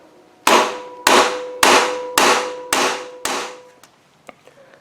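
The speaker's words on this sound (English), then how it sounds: "I'm going to hit it with the rubber mallet" A rubber mallet strikes a car brake part during a pad and caliper change, six loud, evenly spaced blows that ring briefly, followed by a few faint clinks and taps as parts come loose.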